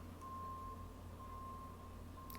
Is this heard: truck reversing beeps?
yes